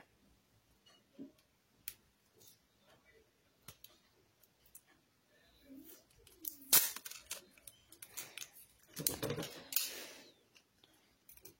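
Adhesive tape being handled and pulled, with scattered faint clicks and crinkles building to a cluster of sharp ripping and cutting sounds near the end, close and fairly quiet.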